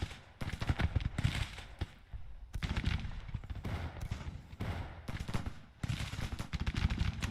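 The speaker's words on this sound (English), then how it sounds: "Let's get our artillery firing on them." Artillery and massed gunfire rattle through a Grand Tactician battle at Gettysburg, with dense bursts of rapid volleys coming in waves, pausing briefly and resuming, loud and continuous without talk.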